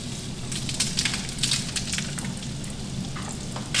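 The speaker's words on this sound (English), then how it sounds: "We're just gonna pan sear off some scallops." Scallops sear in butter in a hot pan, giving a continuous close sizzle with bursts of crackling and spitting.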